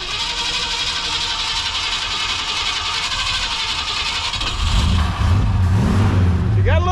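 Loud, close engine of an abandoned 1964 Ford Fairlane Thunderbolt clone running steadily, then revving up harder near the end, with people talking over it.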